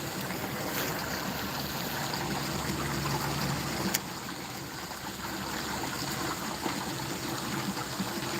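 Rainwater rushes through a drain toward a creek beside a road in the rain, a steady broad wash of flowing water with a faint tap or two, continuous and fairly close, no voices.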